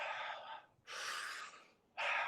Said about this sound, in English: you're circular breathing without a break